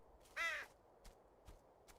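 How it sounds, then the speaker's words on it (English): A crow-like caw from a bird in the dark fantasy game Betrayer, one loud harsh call followed by a few faint distant clicks or rustles in near silence. "That bird scared me, okay?"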